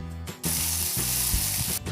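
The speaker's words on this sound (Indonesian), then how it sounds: "Dan langsung aja kita tumis ke dalam minyak yang sudah panas." Blended chili and garlic paste hits hot oil with a sudden loud, steady sizzle that holds for over a second before dropping off, with no talking over it.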